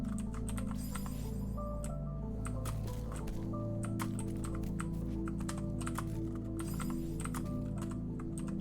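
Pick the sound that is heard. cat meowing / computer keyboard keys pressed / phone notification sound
computer keyboard keys pressed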